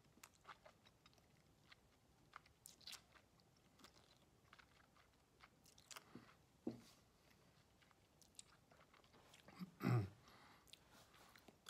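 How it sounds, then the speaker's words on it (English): Quiet, close mouth sounds of chewing while tasting Highland Park Cask Strength whisky, soft wet clicks scattered over several seconds with one louder smack near the end; no talking. "So, third chew."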